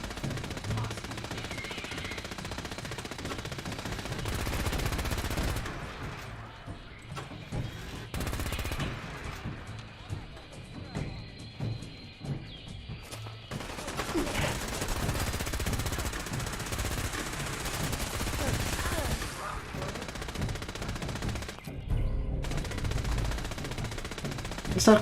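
Gunfire in Fallout 4: bursts of automatic fire and single shots crackle repeatedly through a long stretch of game combat, loud and close with brief pauses between volleys.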